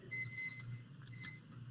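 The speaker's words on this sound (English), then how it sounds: "timers." A kitchen timer beeps in a steady repeating pattern, two clear tones sounding together over a low background hum at moderate volume.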